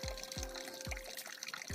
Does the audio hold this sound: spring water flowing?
yes